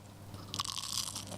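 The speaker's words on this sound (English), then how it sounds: "I definitely heard that crunch" A single close, crisp crunch as a piece of flaky baklava is broken and bitten, with a burst of crackling bite noise followed by a brief quieter crumble.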